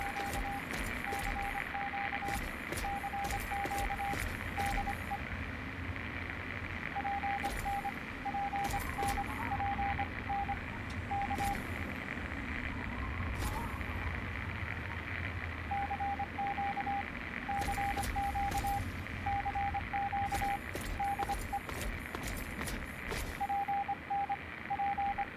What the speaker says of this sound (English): you want to kind of listen for the static fading away, which means that your radio signal's becoming clearer